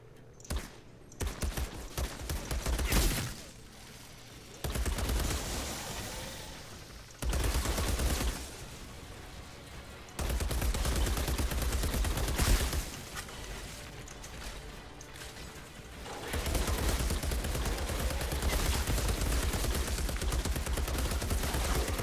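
Sustained gunfire from a weapon in the video game Outriders, loud and close, with bursts of rapid automatic shots broken by short pauses and reloads, then long continuous streams of fire.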